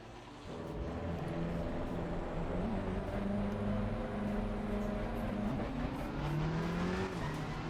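Racing cars in a video game run close by, steady engine drone with rising and shifting pitch as cars accelerate, continuous and moderately loud, no voices over it.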